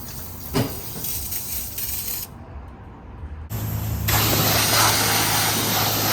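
Steam hissing loudly off the hot engine bay of an Infiniti G37S as it is rinsed, a steady broad spray-like hiss that breaks off for a moment and returns stronger and closer.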